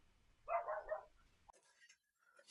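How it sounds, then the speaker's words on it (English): A dog barks in a burst of a few quick yaps indoors, fairly close, followed by faint rustling and soft noises. "The dog is gone wild again."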